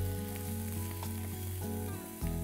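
Raw corn, chopped tomato and capsicum sauté in a pan, a steady soft sizzle with faint stirring scrapes, fairly quiet and close.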